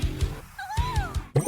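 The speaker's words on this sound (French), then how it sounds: "Oh, mon petit chaton adoré." A kitten gives one clear, rising-then-falling meow. A steady rhythmic thumping beat sits underneath, and a sharp knock comes right after the meow.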